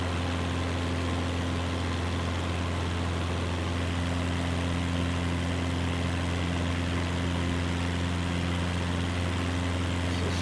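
A single propeller aircraft engine droning in Microsoft Flight Simulator 2024, a loud, steady cruise hum with a constant low tone and no variation, no voices over it.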